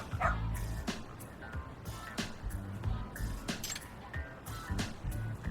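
A dog in the video game Lost Judgment gives repeated short barks and yips over a busy game soundscape, with light clinks between the barks.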